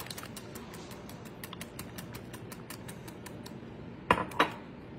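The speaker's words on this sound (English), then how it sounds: "I'm going to whisk that together" Brown sugar mixture being whisked in a bowl for breakfast treats, a fast, even run of light clicking taps that goes on steadily, then two louder clanks near the end.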